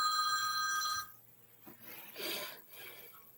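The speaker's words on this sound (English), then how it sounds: "There's the house phone." A house phone rings with an electronic trill for about a second and then stops, followed by faint rustling and movement.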